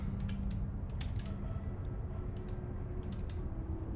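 Computer keyboard keys clatter in short irregular bursts, quick clusters of light clicks over a low steady background hum, fairly close and modest in volume.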